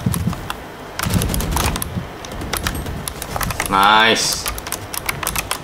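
Typing on a Razer Ornata V2 keyboard, a run of close, fairly loud key clicks and clacks in bursts, with people speaking briefly over it.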